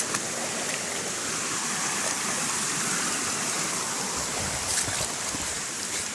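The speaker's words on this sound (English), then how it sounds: "this is just a stream" Mountain stream on a Mt Kapakapanui bush hike, a steady broadband rush of flowing water, close and even throughout.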